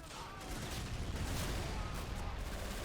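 A dense, continuous crackle of distant rifle and machine-gun fire fills a WWII video game urban battle, steady and rumbling with no single shot standing out, while a voice talks over it.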